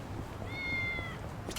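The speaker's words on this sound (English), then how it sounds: "There is a cat very close by in the vicinity" In the video game Yakuza: Like A Dragon, a cat gives one drawn-out, steady meow nearby over busy background ambience, with no talking.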